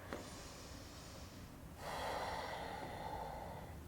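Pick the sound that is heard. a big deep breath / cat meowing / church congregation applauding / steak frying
a big deep breath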